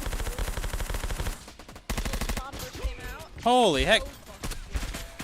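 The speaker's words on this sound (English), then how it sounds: "Why is there a 22 rifle in this game?" Rapid bursts of .22 rifle gunfire in VR Call of Duty, fast repeated cracks in two volleys separated by a gap, followed by a man's loud exclamation with other talk.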